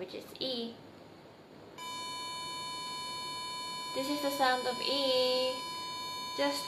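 A single sustained E note rings steadily on a string instrument during tuning, holding evenly for several seconds while a voice talks over part of it.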